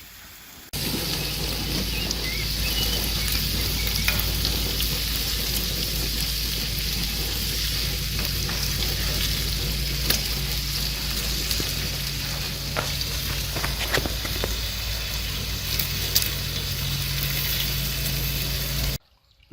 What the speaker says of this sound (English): Move the bacon over there. That side's too hot.